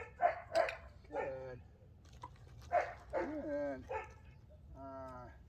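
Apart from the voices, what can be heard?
dog barking and whimpering during training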